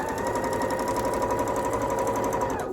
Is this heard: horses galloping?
no